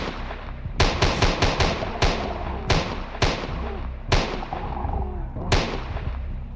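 Rapid bursts of gunfire from a Minecraft-style survival multiplayer game, sharp loud cracks arriving in irregular clusters of two to five shots with short pauses between volleys, over a steady low background hum.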